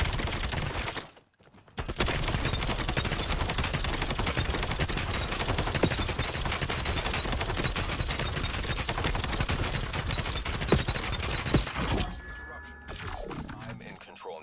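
A light machine gun fires in a video game in long sustained bursts, dense rapid shots that are loud and close. A short pause comes early and the firing trails off near the end.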